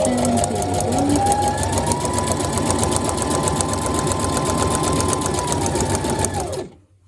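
A sewing machine stitches in a fast, even mechanical rattle, loud and close, running continuously before stopping abruptly near the end while switching between straight and zigzag stitch.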